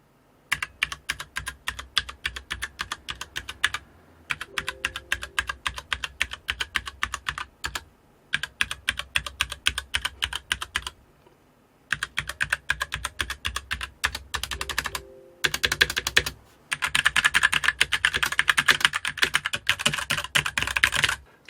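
Typing on a SteelSeries Apex 7 mechanical gaming keyboard with red switches, rows of keys pressed in quick, even bursts of soft clicks, separated by short pauses, close and clear with no talking.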